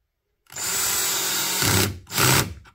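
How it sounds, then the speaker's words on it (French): A cordless screwdriver drives a screw into plastic on a Toyota RAV4 hybrid, whirring loud and close in one long run, then a brief stop and a second short burst. "tu vas te régler ta visseuse pas très fort et tu vas mettre ta vis tranquillement"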